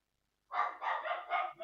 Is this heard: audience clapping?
no